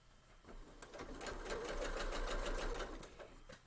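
A sewing machine runs steadily, stitching across a quilt seam on a Christmas tree skirt, with a close, continuous rapid clatter of needle strokes that holds for several seconds before easing off.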